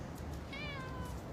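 A small ginger cat gives a single drawn-out meow, close and fairly clear, over a steady background murmur of street noise in a film scene.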